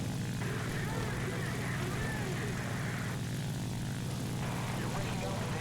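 A propeller aircraft engine in a flight simulator game hums steadily through takeoff, a constant low drone mixed with a faint whine, with someone talking over it.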